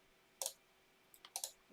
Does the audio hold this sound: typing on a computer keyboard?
yes